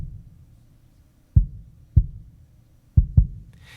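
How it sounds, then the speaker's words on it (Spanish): Kick drum beat from a song, four deep thumps in a loose rhythm, the last two close together, over a quiet low background with no talk. "el bombo hace esto"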